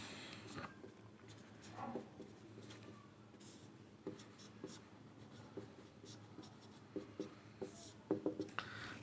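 Steady scratching and tapping of writing as a geometry theorem about a circle is copied out for a Class 10 lesson, faint and close, with small pauses and a few sharper strokes near the end.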